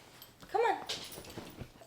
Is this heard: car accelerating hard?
no